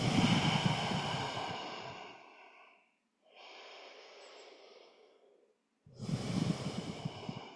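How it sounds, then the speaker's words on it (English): Slow, deep breaths during a yoga practice: a long airy exhale, a quieter inhale after a pause, then another strong breath, close and alone. "Come back to your breath."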